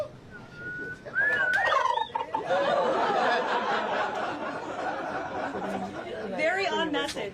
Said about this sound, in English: want to give us a gobble?